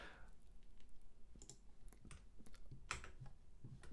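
Terminal commands typed on a computer keyboard, with quiet irregular key clicks and taps in short bursts, close but soft, over a faint background hiss and no talk.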